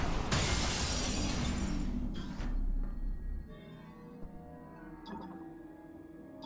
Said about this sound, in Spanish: El cristal puede romperse.